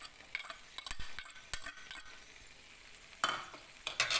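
A spatula scrapes and clinks through a tomato egg scramble in a frying pan, several quick stirring strokes over a soft sizzle, close and fairly clear.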